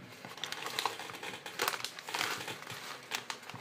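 A Snack Beans Chili Lemon snack bag crinkles and rustles continuously as it is handled up close, with dense, irregular crackling bursts throughout.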